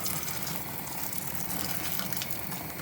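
Hot water pouring steadily into a cooking pot, a continuous loud rushing splash at close range with no pauses and no talking.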